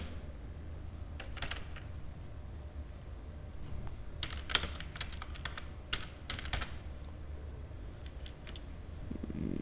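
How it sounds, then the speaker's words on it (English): Java code for a hand cricket game typed on a computer keyboard: scattered clusters of quick key clicks, some louder taps, over a constant low hum; close and fairly quiet, no voices. "Here I will type final score of computer."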